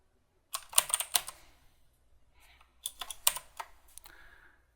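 A patient's name typed on a computer keyboard: two quick bursts of close, crisp keystrokes separated by a short pause, clicking alone in a quiet room.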